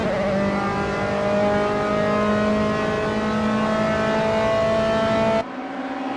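Dallara F312 race cars in Assetto Corsa scream around Blackwood on a club race, a sustained high-pitched engine whine holding a steady pitch before cutting off abruptly near the end.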